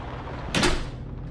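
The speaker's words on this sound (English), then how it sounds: "the front door opened and shut" A front door opens and swings shut in one brief, muffled knock-and-thud burst, heard once over a low, steady room hum, with quiet before and after.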